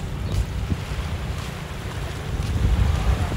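Wind buffets the microphone on a beach with surf washing in, a steady low rush that swells toward the end.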